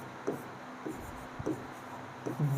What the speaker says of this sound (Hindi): तो मैं यहाँ पे लिख देना चाहूँगा